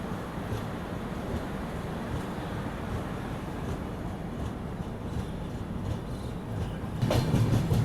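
The Visakhapatnam Express pulls out of Sasaram station with a continuous low rumble and rolling rattle heard from inside, swelling louder with a burst of clatter near the end.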